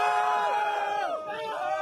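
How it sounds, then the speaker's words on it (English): Excited crowd gathered outdoors on PlayStation 4 launch night, a dense wash of cheering and shouting voices with a rising and falling pitch, loud and close throughout. "the crowds are super excited to get their PS4s"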